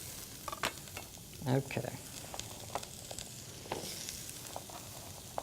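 Zucchini soup ingredients sizzle and fry in a pan over medium-high heat, a soft steady crackle with a few stirring scrapes and clinks, while a person speaks briefly.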